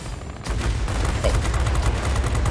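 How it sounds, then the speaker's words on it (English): Rockets fire from a warplane in World of Warplanes, a sudden loud burst kicking in and rolling into a dense, continuous roar of launches and engine noise that stays close and steady to the end. "What a horrible pair of rockets as well."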